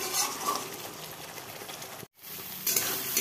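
Spice paste mixed with yogurt sautés in hot oil with a steady, dense sizzle and crackle. The sizzle briefly cuts out near the middle, then resumes just as loudly.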